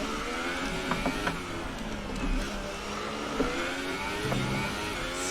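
Formula 1 car engine in the F1 2018 racing game at Monaco, revving hard under full throttle with sharp rising whines and quick shift blips, loud and close throughout without speech.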